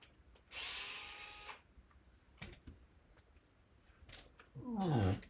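A power drill whirs in a short, high burst while backing screws out of an electronics box, followed by scattered clicks and handling noises and then a rising whine as the motor spins up again.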